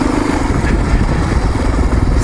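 A dual sport motorcycle, lighter than a Honda CRF, runs steadily on a desert trail ride near Quartzsite, Arizona, its engine a loud, close, continuous rumbling drone with mechanical clatter and no break.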